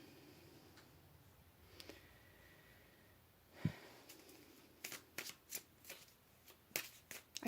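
Tarot cards in a pick-a-card reading are shuffled and drawn: a soft brush of cards early on, then a run of crisp, close riffling snaps and flicks in uneven bursts, with no talking.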